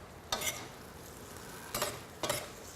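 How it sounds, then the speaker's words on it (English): Cream of spinach soup with red pepper and basil stirred in a pot, three short scraping strokes spaced apart over a quiet simmer, close and fairly soft. "Give my soup a little stir here"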